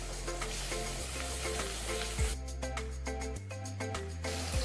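Shallots, garlic, ginger, curry leaves and tomatoes sizzle and fry in a pan for a green moong dal curry, a steady close crackle with occasional stirring scrapes, partly under soft background music.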